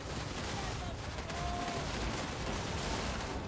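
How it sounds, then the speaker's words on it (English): Musket volleys in the Total War: Warhammer video game, a dense crackle of massed gunfire blending into a continuous roar of battle noise, moderately loud throughout. "We're going to see these guys open fire too"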